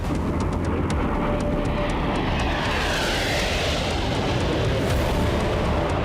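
Rafale and Typhoon fighter jets roar overhead in a loud, continuous broadband rush that swells and holds throughout.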